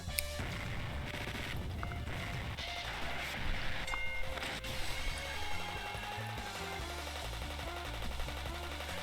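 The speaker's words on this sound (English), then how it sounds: "Rocket-like objects flew at Rena from all sides. It was a dangerous trap using remodeled bottle rockets." Dense barrage of remodeled bottle rockets in the game Higurashi Rei, a long run of rapid crackling pops and whooshes layered over a thumping game soundtrack.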